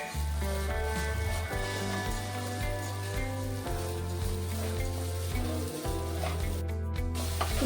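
Sugar melting in a pan over a medium flame for mango coconut barfi, stirred steadily with a soft continuous sizzle and scraping, close, over a constant background hum with no talking.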